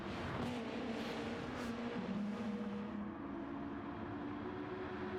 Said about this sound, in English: As Colin McKevitt drifts his car into pit road.